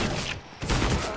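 Bursts of rapid MP9 submachine-gun fire in Counter-Strike: Global Offensive during a pro match on Mirage, two dense volleys separated by a short gap, loud and close.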